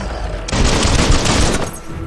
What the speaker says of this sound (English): You can shoot him.